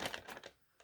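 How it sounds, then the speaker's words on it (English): A deck of tarot cards is shuffled in a quick riffle of crisp clicks and flutters, close and soft, ending in a brief pause and one last tap. "And I shuffle these cards"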